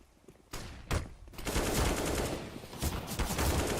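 Rapid gunfire from a Counter-Strike: Global Offensive match between NaVi and BIG at BLAST Premier, starting with a few separate sharp shots and then a dense, loud, sustained burst of automatic fire with no talk over it.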